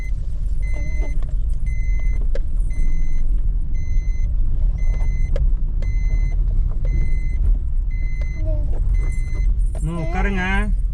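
A car drives along a rough road near Mettur Dam, its underside knocking on the ground. A heavy, steady low rumble runs throughout, with a repeating electronic chime beeping above it and a voice briefly at the end.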